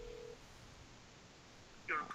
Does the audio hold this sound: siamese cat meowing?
no